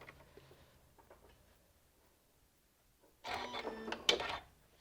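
A sewing machine stitching quilt fabric: a few faint ticks, then a loud, rapid mechanical whirr lasting about a second before it stops.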